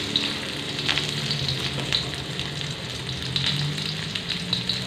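Shallots and garlic hitting a hot pan for a stir-fried bean sprout and tofu dish, giving a loud, steady close sizzle with small crackling pops throughout.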